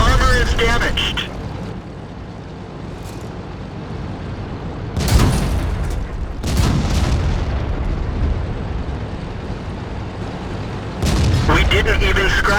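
Tank cannons fire during a World of Tanks battle, giving three heavy, booming blasts spread across the clip. A steady rumble sits underneath, and game voices speak between the shots.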